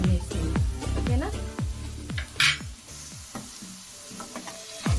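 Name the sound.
eggs deep frying in oil with curry leaves and dried red chillies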